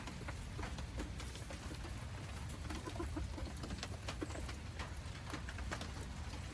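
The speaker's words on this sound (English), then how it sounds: "My little backyard flock" A small backyard flock of chickens clucks on and off at a moderate distance against a steady hiss of rainy outdoor ambience, with no talking.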